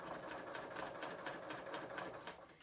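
A serger stitches along a fabric fold while hemming sleeves, a fast, even whirring hum with regular pulsing, steady and close but fairly quiet.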